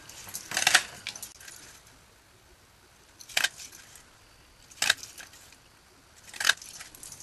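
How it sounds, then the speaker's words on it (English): An eyelet border punch bites through a strip of paper in four crisp, separate clacks spread across the stretch, each a sharp snap with quiet pauses between, close by and with no talking. "I'm just going to run the eyelet border punch down this."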